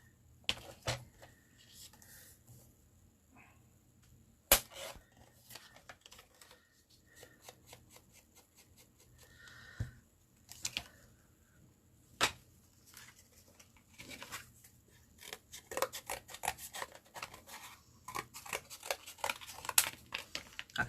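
Paper for a mini album is trimmed to 7 inches, with sparse snips and slides early on, then a busy run of quick cutting and paper-handling sounds near the end, close and fairly quiet.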